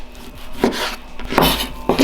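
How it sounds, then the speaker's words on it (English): Knife cutting beef into thin slices across the grain on a board, with three distinct chopping strokes spaced about two-thirds of a second apart, close and crisp, with no talk. "Cut it quite thin so it cook nice and quickly."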